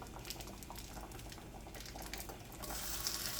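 Chorizo sizzling and frying in a hot pan, a steady dense crackle and hiss that swells slightly louder toward the end, close up with no voices.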